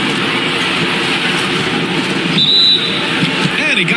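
A referee's short, sharp whistle cuts through crowd noise and squeaking shoes midway through NBA 2K23 simulation gameplay of Minnesota Timberwolves against Dallas Mavericks, blown on a shot attempt for a foul.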